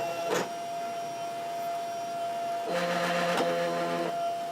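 A Brother ScanNCut cutting machine hums steadily throughout, with a constant tonal whine. Two louder mechanical bursts break in, a brief one near the start and a longer buzzing stretch toward the end, as the carriage moves the blade. No one speaks.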